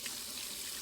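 Warm water runs steadily from a kitchen tap to soak a dish rag in the sink, a continuous hissing splash with no voices.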